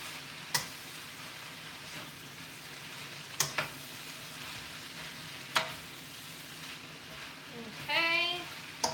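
Bok choy stir fry sizzles steadily in a pan while a utensil knocks against it a few times, sharp isolated clacks spaced seconds apart, with a brief voice near the end.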